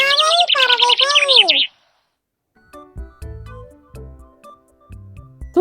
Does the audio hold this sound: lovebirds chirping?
yes